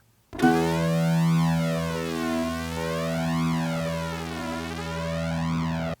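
A single sustained mid E note from a sampled toy guitar rings steadily, its synthetic tone sweeping and wobbling through a phaser-like effect, heard alone.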